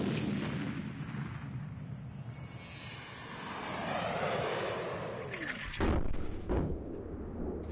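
A hypervelocity rocket sled of the kind that set a 10,430 km/h land speed record fires with a broad, sustained roar that swells and sweeps. Sharp, heavy blasts punctuate the end, with no voices.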